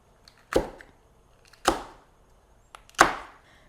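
A knife chopping jalapenos or cucumbers on a cutting board for candied jalapeno or cucumber slices: three sharp, close chops spaced about a second apart, each with a short decay, in a quiet kitchen.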